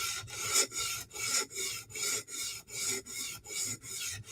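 Steady back-and-forth rasping of a Spyderco knife blade drawn across a coarse 150 grit sharpening stone, about ten even strokes, close and clear with no talking.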